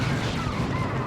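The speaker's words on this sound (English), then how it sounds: "Look at that shot though from the Strangled Thorn" A Strangled Thorn cannon fires a shot during a Dawn of War 2 3v3 match, a dense booming blast over continuous battle noise.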